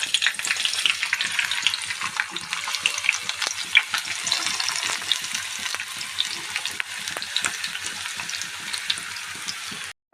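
Onions sizzle and crackle in hot oil in a kitchen pan, a dense, steady frying hiss with rapid small pops throughout, no voices.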